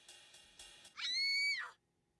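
A high, sustained scream rings out in a Fate/stay night visual novel. Several short clicks or taps come first, then the loud, shrill cry holds for about three quarters of a second and stops abruptly.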